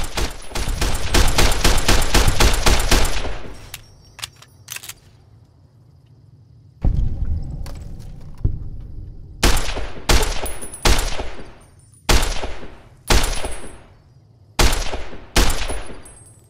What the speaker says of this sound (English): Is there anyone that I'm shooting at, or am I just wasting ammo?